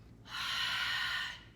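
A single hard, breathy exhale lasting about a second, close and clear, pushed out during a set of bodyweight squats in a strength workout.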